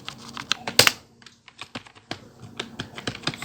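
Rapid keystrokes on a computer keyboard while entering form code, an irregular patter of close, crisp clicks with one louder burst near the start, no voices.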